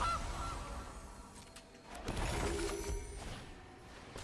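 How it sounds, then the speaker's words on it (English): Goose honking as a card sound effect in the MTG Arena digital card game, a couple of loud nasal honks with a whoosh over the game's background music. "Opponent gets out a goose."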